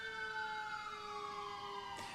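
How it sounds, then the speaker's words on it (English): A fire engine siren wails steadily at a town apple blossom parade, a loud sustained tone gliding slowly downward throughout, with a brief broadband burst near the end. "This is fire engine 3. They have just the two. But it's making enough noise."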